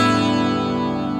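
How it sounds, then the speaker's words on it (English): A guitar with a capo on the 2nd fret in standard tuning is strummed once, giving a bright, full chord that rings out evenly and close for just over a second. "If you strum your guitar,"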